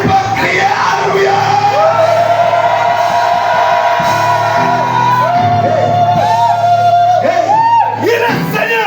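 A church congregation at a French-language revival service shouts Hallelujah together, loud sustained yells and whoops from many voices filling the room for several seconds.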